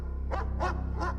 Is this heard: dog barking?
yes